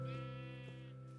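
A sheep bleats in the video game Minecraft (version 1.6.4 with the Fossils and Archaeology mod), one sustained, wavering bleat, close and clear, heard alone with no talk.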